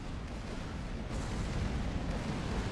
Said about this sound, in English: This is a serious gun battle. Lots of people shooting at this.